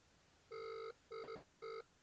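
Telephone ringback on a call being placed, three steady tonal bursts about half a second each with short gaps, moderately loud and alone, with no talk.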